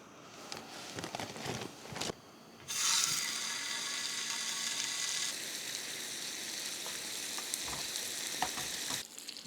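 Bacon frying on a camp stove in snowy Alaska wilderness, opening with faint clicks and scraping before a loud, steady sizzle starts and continues, with occasional sharp clatters over the hiss.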